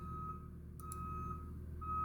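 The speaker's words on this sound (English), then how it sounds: "There's somebody reversing in front of my store. I don't know why. They just left their car in reverse." Reversing beeps from a car left in reverse in front of a store, a repeated high electronic tone that cuts in and out at a steady pace over a low background hum.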